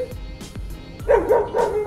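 A dog barks repeatedly nearby, several sharp bow-wows spaced out over steady background noise, growing louder toward the end.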